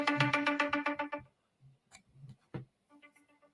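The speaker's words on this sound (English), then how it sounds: "my phone is making noise right now" A mobile phone rings indoors with a loud, repeating melodic tone for about a second, then goes quiet except for scattered clicks and taps, before the ringtone returns more softly.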